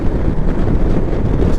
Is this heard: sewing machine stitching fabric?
no